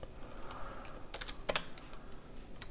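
Typing on a computer keyboard, a short burst of light key clicks with a couple of sharper taps near the middle, close but quiet, with no talking.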